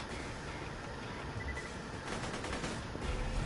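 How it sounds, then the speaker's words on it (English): Assault rifle fire in a video game as a steady, dense rattle of fast automatic shots under a noisy background, growing a little louder toward the end. "Now, I use the assault rifle."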